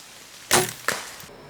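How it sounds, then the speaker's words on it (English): Hunting arrow striking the ground after passing through a deer on public land, two short sharp pops a fraction of a second apart, close and distinct against quiet outdoor background. "the pop that you hear is actually the arrow hitting the ground"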